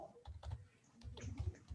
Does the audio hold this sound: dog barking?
no